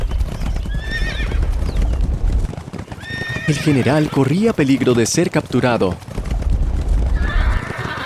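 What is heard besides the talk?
horse neighing and hooves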